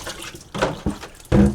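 Distilled water is poured in short splashing bursts onto the back of a part for an Outrun arcade machine being repaired, with a couple of close, wet pours and brief pauses between.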